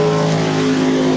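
Dirt track race car at a raceway, a loud, sustained engine drone with steady harmonic tones as it accelerates away, close and unbroken with no voices.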